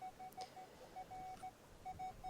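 Beeping metal detector tones from a Nokta Legend or XP Deus II, heard in repeated short pulses with some phone interference mixed in. The signal comes through faint and steady, with no talk over it.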